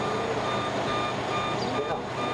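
A bus reverses near a chapel, its steady warning beeps ringing over a rumbling engine and street noise, with voices murmuring in the background.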